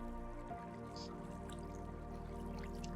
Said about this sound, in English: So we have our tiny little waterfall, and our water pools over here from the big waterfall.